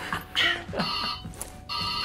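A telephone rings for an incoming call in a couple of short electronic trills, fairly close and clear, with a brief voice-like sound mixed in.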